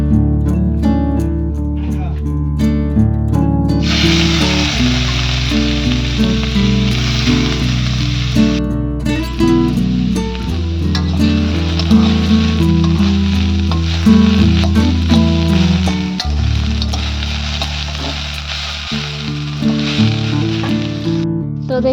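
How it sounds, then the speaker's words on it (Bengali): Turmeric-coated banana stem (thor) frying in hot oil gives a loud, steady sizzle that runs the whole time, with a voice heard over it. "দেখতেই পাচ্ছেন থোর ভাজাটা রেডি হয়ে গেছে"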